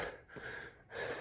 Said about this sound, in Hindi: हाँफेगा शरीर, ज़रूर हाँफना भी चाहिए।